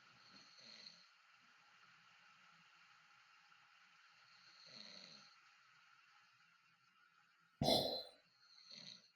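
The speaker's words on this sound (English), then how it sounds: "last night they actually recorded me snoring in different increments" A man snores in a quiet room, with a few soft drawn-out snores spaced several seconds apart and one sharp, loud snort near the end.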